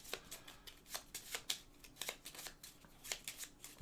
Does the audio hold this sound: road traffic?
no